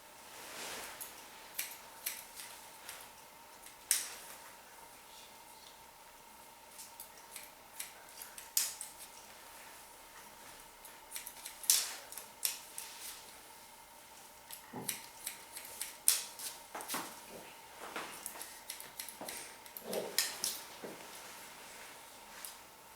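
Quiet, irregular snips of scissors cutting hair, small crisp clicks and ticks scattered unevenly over a faint steady hum, with no talking.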